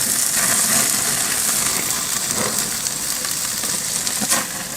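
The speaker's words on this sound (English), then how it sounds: "I'm going to let that grill for a total of 10 minutes" Bratwurst, Brussels sprouts, potatoes and mushrooms sizzle on a grill, giving a loud, continuous frying hiss with faint crackles, close by and with no talking.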